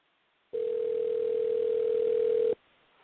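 Steady telephone dial tone heard while a call is being placed, a single unbroken electronic hum lasting about two seconds that starts and stops abruptly over faint background hiss.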